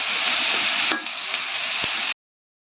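Cauliflower chili frying in a pan, a steady close sizzle that runs unbroken for about two seconds, then stops abruptly into silence before a brief burst returns at the end.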